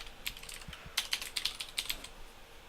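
Quick bursts of keystrokes on a computer keyboard, a cluster of crisp close clicks in an irregular rhythm, typed alone without talk.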